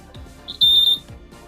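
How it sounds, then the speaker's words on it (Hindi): Electric buzzer on a ninth-grader's homemade ring-and-wire touch game at a school science exhibition, sounding once as a loud, steady shrill tone for about a third of a second, close by. "अगर ये टच होता है तो फिर बजर रिंग करने लगा"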